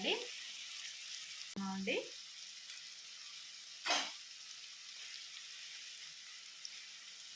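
Onions fry in a pan with a steady, fairly quiet sizzle, broken by a few sharper clatters of a spoon and a short burst of louder crackle as they are stirred; a voice speaks very briefly.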